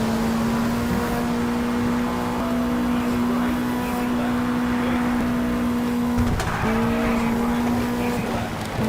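Rally cars in the Sega Rally video game, with a steady, loud engine drone and a held high tone, tire squeal and a brief shift near the end, playing continuously without voices.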